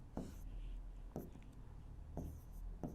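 Chalk or marker strokes on a board during a maths lesson, several short scratchy bursts spaced about a second apart, close and fairly quiet with no talking.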